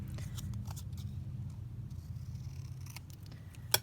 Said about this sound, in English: let's just cut that dictionary definition down